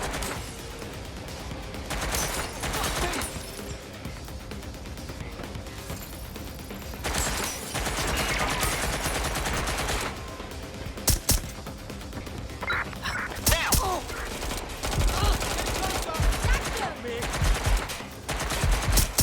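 Sustained automatic gunfire in Watch Dogs Legion: dense, rapid bursts of shots crackle almost nonstop at close range, with a few sharper reports punching through near the end.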